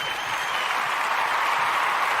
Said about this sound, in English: we want to give all the Umoja born a round of applause